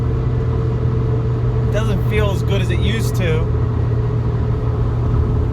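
A Nissan Altima that is down on power drones with a steady engine rumble while cruising at speed on a warm, humid day. Someone talks over the constant engine and road noise.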